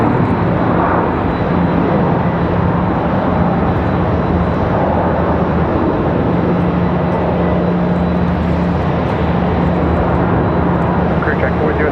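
An airliner touches down on the runway at Raleigh-Durham airport, heard as a steady, broad engine roar that holds at full loudness throughout while voices talk over it.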